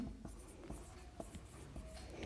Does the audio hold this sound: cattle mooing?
no